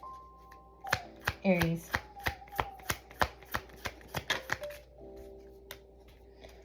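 A tarot deck is shuffled by hand, giving a quick run of crisp card clicks and riffles close by, followed by a brief spoken word.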